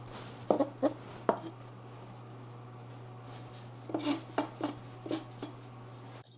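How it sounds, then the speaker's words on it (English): A bench scraper squares off the edges of oatcake dough in a home kitchen, giving a few short dull scrapes and taps in two clusters over a steady low hum. "So I'm going to use my bench scraper to square off these edges."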